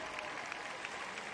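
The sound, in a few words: crowd applauding Michael Phelps at a baseball game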